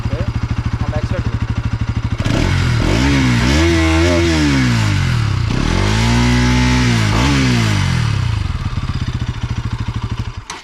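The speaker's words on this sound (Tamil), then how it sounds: "அடுத்தது நம்ம ஃபேஸ் லிஃப்ட் மாடலோட எக்ஸாஸ்ட் நோட் வந்து கேட்டுருவோம்" A Bajaj NS 200 facelift motorcycle idles with a steady thump, then the exhaust is blipped and revved hard several times, loud and close, before settling back to idle.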